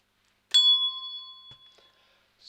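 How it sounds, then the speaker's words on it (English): A single bell rings out an E note, a clear struck tone that sounds once and then fades slowly over about two seconds in a quiet room. "So we've got our second bell now, our third note of the scale, our E"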